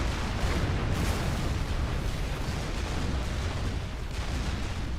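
Dense, continuous battle barrage from Supreme Commander 2, a 1v1 tournament real-time strategy match: heavy overlapping booms, blasts and weapon fire rolling without pause at a steady loud level, no voices over it.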